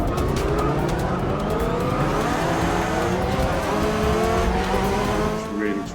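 Racing car in Forza Motorsport 6 with traction control off, engine roaring steadily while tires squeal and skid as it spins off the track, loud and continuous throughout.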